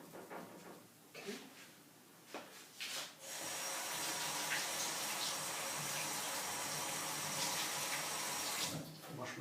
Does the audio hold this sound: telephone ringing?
no